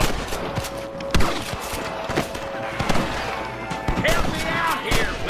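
Gunfire in a Red Dead Redemption shootout against rustler guards: several sharp shots in quick irregular bursts, loud and close, mixed with shouting voices and game ambience.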